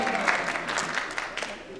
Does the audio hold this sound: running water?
no